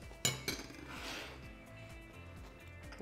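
A metal spoon clinks sharply against a bowl of prawn sandwich filling in a kitchen, one bright clink followed by a softer second tap, then quiet scraping over low background hum.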